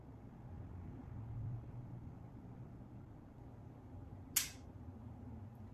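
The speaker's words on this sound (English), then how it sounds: "Okay, we took the picture." A single sharp click from the shutter of a Lubitel 2 medium format camera, heard close and brief against a quiet room hiss.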